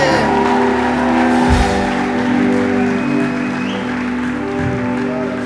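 Congregation applauding at a French-language church service, sustained loud clapping filling the room throughout with a continuous crowd roar.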